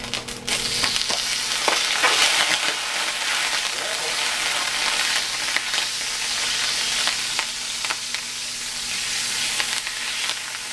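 Brussels sprouts fry loudly in a Green Life pan over high heat, giving a steady, dense sizzle with occasional stirring scrapes throughout.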